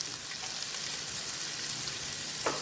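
Cabbage dropped into a pan of sizzling bacon fried rice, a steady loud frying hiss throughout with a short scrape or stir near the end.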